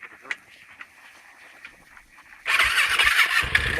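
A Yamaha motorcycle engine, quiet idle burbling with faint honk-like blips before bursting into a loud, close, revving roar that holds steady to the end.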